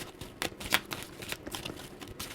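Tarot cards riffled and flicked during a reading, a close series of crisp papery snaps and shuffles in quick irregular bursts, quiet and alone.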